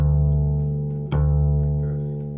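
A bass D string plucked by the right hand rings out as a deep sustained tone, restruck once midway with a soft thump and slowly decaying, close and alone.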